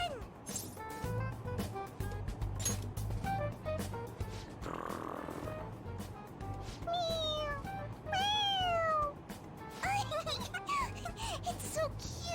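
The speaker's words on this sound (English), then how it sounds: "It meows when you press on its head." Toy cat in Persona 5 Royal meowing when its head is pressed, several short cute meows spaced apart over game background music, with characters talking around them.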